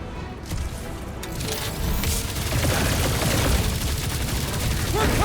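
Dense gunfire in the video game Marvel's Guardians of the Galaxy, a loud continuous rattle of rapid shots and impacts building over several seconds, with game voices talking through the din.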